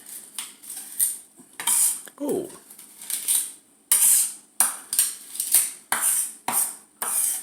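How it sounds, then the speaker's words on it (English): Garlic being crushed with the side of a knife on a cutting board: a series of sharp metallic taps and thuds in an irregular rhythm, close and clear, with a short voice exclamation partway through. "crush the garlic."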